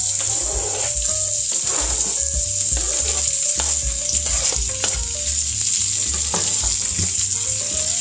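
Chopped onion frying in rendered bacon fat for a soup, giving a loud, continuous crackling sizzle close up, with occasional stirring.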